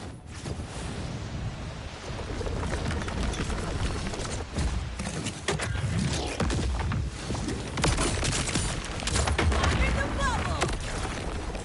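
Gunfire from a weapon in Borderlands 4 crackles in dense, rapid bursts with booming impacts, loud and continuous, mixed with wind-like noise and a voice talking throughout.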